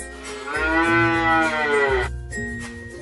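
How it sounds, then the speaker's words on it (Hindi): A buffalo lowing in a long, loud bellow with a rising then falling drawn-out moo lasting about two seconds, followed by a shorter grunting call, close and clear with no talking. "The next animal is a buffalo"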